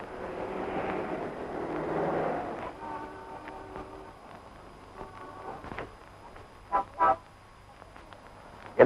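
A car tyre bursting in an old Tamil comedy film scene: a steady hum and tones, then two sharp, loud bangs close together, with another abrupt burst at the very end.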